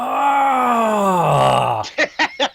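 Voice imitating a creature's low growl, a sustained guttural groan that slides downward, followed by four short, rhythmic heavy breaths, close and loud.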